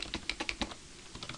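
Quick, close-up clicking keystrokes on a computer keyboard come in an uneven burst, pause briefly, then resume with a few lighter taps.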